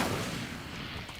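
A fire spell is cast in the Hogwarts video game, a short, dense burst with a booming low end and crackling texture that fades over about a second.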